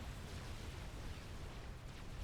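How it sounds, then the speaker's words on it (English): Long-range plasma cannon fire striking metal extractors in a strategy game: a dense, continuous rumble of explosions, low and steady throughout, with no talk over it. "the AI is taking out a lot of my metal extractors here with those long-range plasma cannons"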